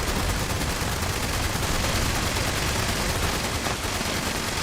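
Rapid gunfire from a gun in Fallout 76, a loud, dense, continuous rattle of shots that rolls on without a break and stands alone with no voices.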